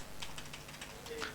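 Fingers tap a computer keyboard in quick, light clicks at close range, a soft run of keystrokes with no one speaking.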